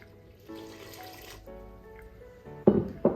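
About 550 ml of cold water is poured for bread dough, a soft trickle and splash that runs on and off before louder clunks and splashes near the end.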